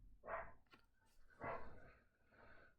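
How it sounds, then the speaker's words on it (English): Dogs bark a few times somewhere off at a distance on a hot day, each muffled bark rising out of quiet surroundings with short gaps between. "I'm surprised the dogs have the energy to bark in this heat."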